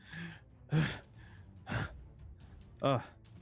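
A player voices a character named Greshy gasping back to life during a tabletop Pathfinder game, giving three sharp breathy gasps close to the microphone, spaced about a second apart.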